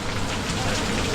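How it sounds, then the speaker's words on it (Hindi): Heavy rain pours in Agra, a dense, continuous close patter on surfaces with no break. "it's a very heavy rain"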